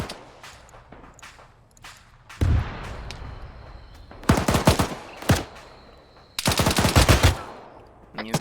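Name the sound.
gunfire in the video game Arma 3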